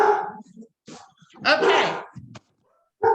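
Pet dogs named Molly and Noodle bark and yip in a home during an online Toastmasters meeting, several sharp barks in bursts close to the microphone, with a person briefly speaking between them.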